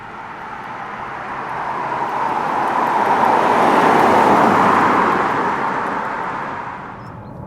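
A Mazda CX-5 with a 2.5-litre naturally aspirated engine idles with a steady, broad exhaust rumble that swells slightly mid-way and then eases, continuous and fairly close, with no talking.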